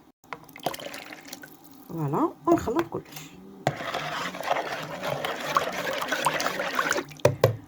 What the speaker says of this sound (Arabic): ونزيدو نص كاس ماء يكون كذلك دافي